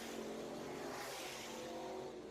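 Late model race cars roaring around an oval track at Southern Raceway, a steady loud engine drone from a pack of cars throughout, no talk.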